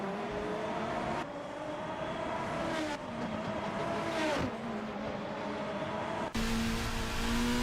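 Race cars in a Formula racing video game, a sustained engine whine with pitch sweeps as cars accelerate and shift, cutting abruptly between camera views, steady and fairly loud with no talk.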